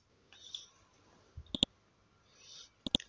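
Two pairs of sharp computer mouse clicks on a Windows 10 PC, each pair a quick double snap, close and crisp against a quiet room with faint background hiss between them.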